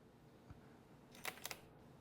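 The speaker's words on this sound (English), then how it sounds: "the shutter is really different. It's very loud, it just slaps" A Sony full-frame camera fires its loud shutter: a sharp double slap of mechanical clicks, close and crisp, following a faint tick against a quiet room.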